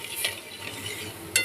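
Mustard paste thinned with water is stirred into a simmering bata fish curry, giving a soft continuous scraping and bubbling with a faint clink of the utensil near the end and no talking.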